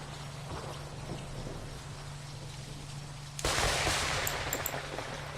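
Rain and thunderstorm ambience in the airport management game Airport CEO: a low steady hum under faint rain, then a sudden loud thunder crack at mid-clip that rolls into a broad rumble.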